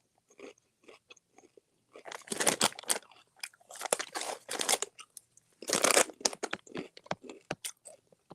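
Someone eating crunchy food, with close, loud crunching bites and chewing in irregular bursts separated by short pauses.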